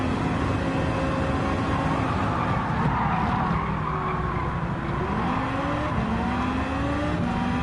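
Race car in a racing video game roaring at full throttle, engine pitch climbing and dropping in repeated steps as it shifts up through the gears, loud and continuous with some tire noise.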